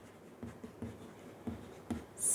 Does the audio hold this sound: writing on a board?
yes